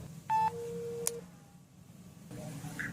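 A telephone line gives a quick electronic dialing beep, followed by a longer steady tone and fainter line noise. Another short beep comes near the end, all fairly quiet.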